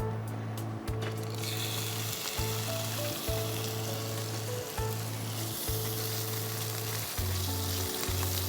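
Salted, washed shrimp frying in hot oil and ghee in a creamy prawn curry, a steady close sizzle running alone throughout with a low rhythmic hum underneath.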